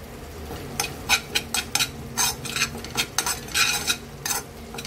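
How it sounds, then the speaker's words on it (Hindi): Desiccated coconut roasts in hot ghee while a spoon stirs it briskly, giving repeated scraping strokes against the pan over a faint sizzle. "मैंने दोबारा से थोड़ा सा घी गर्म करने रखा है और उसमें मैं खोबरा बुरादा"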